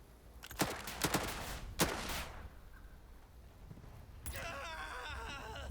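Scouts firing guns in the WW2 strategy game Headquarters WW2: three sharp, loud gunshot bursts in quick succession, followed by a quieter stretch and a later rattling burst of effects.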